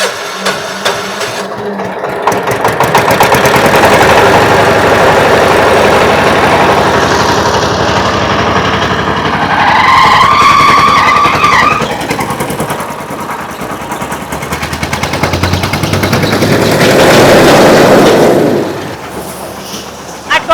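A paddy thresher machine's engine runs loud and steady throughout, with a rising rev in the middle and again near the end before it cuts off.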